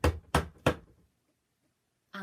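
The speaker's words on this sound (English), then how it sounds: "She tried the doorknob and knocked and banged" Three sharp, loud knocks on a door come in quick, evenly spaced succession, followed by a second of silence before a voice begins talking.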